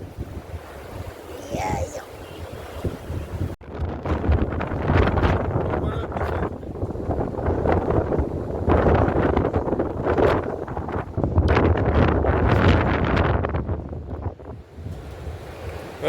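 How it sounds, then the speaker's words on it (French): Wind gusts buffet a microphone at a seaside campsite during a winter storm, a continuous, roaring rush that swells and eases over several seconds, with waves likely beneath and people chatting in French. "Il y a du vent"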